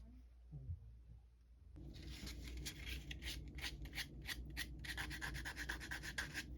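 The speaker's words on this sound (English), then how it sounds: "I'm giving this piece just a light sand, just to get any kind of jagged or sharp edges off of there" A small wooden piece for a 1:12 scale miniature kitchen hutch gets a light sanding to take off jagged edges, making a soft, rhythmic rubbing scrape of short strokes after a quiet start.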